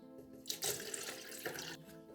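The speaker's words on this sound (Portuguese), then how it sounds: "Vou adicionar as batatas, 500 ml de leite" Milk poured into a blender jar already holding water and potatoes, a steady splashing liquid stream lasting a couple of seconds with a louder gush midway, close and alone.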